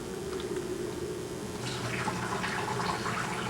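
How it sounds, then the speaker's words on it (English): Water trickles and splashes steadily through a marbling draining board into the field below, a soft continuous flow that grows slightly busier partway through, with no talking. "So this is your draining board. It drains right down below into your field."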